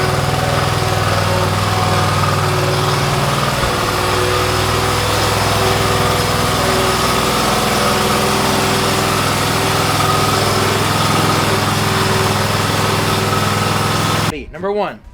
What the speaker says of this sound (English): Pay attention now to how I'm going to load the zero turn